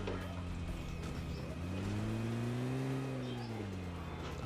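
Vehicle engine in a battle royale video game, a steady droning hum that rises in pitch and falls again as the car strains over a pothole where it briefly gets stuck, loud and continuous with no talking.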